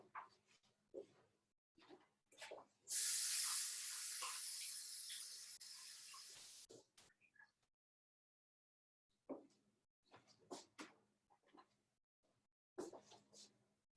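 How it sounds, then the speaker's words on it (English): Running tap water pours steadily for about four seconds while hands are washed, a bright hissing stream that stops abruptly, with quiet kitchen talk and handling sounds before and after. "Let me wash my hands one more time"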